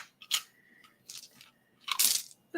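Dice tipped into a storage chest clatter and rattle in three separate bursts, the last the loudest and longest, with quiet gaps between and no talking.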